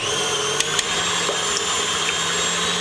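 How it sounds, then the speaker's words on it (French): A stand mixer whips egg whites for a strawberry mousse, giving a loud, steady high-pitched motor whine that runs unbroken, with a couple of faint clicks from the bowl and no voices. "on va les incorporer à l'intérieur de notre machine et on va commencer par monter les blancs en neige"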